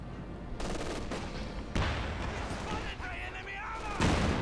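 A Pak 40 anti-tank gun and other weapons fire in a Company of Heroes 2 battle, with dense bursts of gunfire and heavy booms near 1.7 and 4 seconds, and a voice over the battle.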